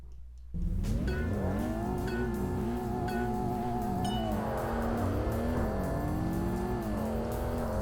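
A car drifting in the Tokyo Xtreme Racer Drift 2 video game, its engine holding a high, steady rev with pitch sweeps and wavering tire squeal throughout, loud and close with no talk.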